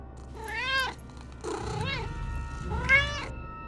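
A cat meows three times in a Minecraft game, each call drawn-out and tonal, close and clear over a low background hum.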